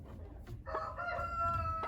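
A hen named Nugget in a chicken coop gives a drawn-out, tonal clucking call over a low background hum, close and moderately loud, lasting about a second.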